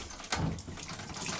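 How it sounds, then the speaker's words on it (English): Soapy water pours and splashes down from a hand-cranked clothes wringer in a short burst that sounds close and fairly loud, with an uneven spattering flow. "you see all this soapy water coming down"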